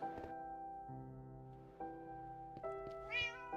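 A cat in a backyard meows several times in drawn-out, tonal calls, fairly close, with short pauses between and a higher, strained cry near the end; no talking.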